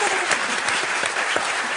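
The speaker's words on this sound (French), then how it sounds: "vous deviendrez une foule en délire" An audience at a magic show gives a brief burst of dense, steady applause, loud and close, with no clear voices.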